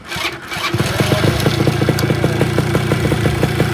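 A Yamaha RXT135 motorcycle fires up on its push-button starter after a brief crank, then settles into a close, loud, rapid two-stroke idle with an even popping rhythm.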